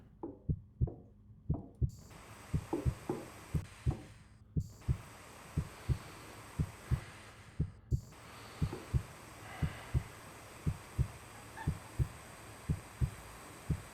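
Low-stamina heartbeat from the video game Occupy Mars, a steady, deep thumping pulse repeating about every 0.6 seconds throughout, over a hum of game ambience.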